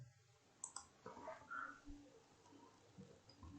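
A computer mouse clicks a few times while working in PowerPoint, faint sharp clicks clustered near the start with quieter taps after, over a low background hiss.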